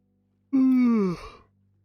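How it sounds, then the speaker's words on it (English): A tired person gives one voiced yawn that opens sharply, slides downward in pitch and fades out after about a second, close and alone in a quiet room. "Sorry about yawning."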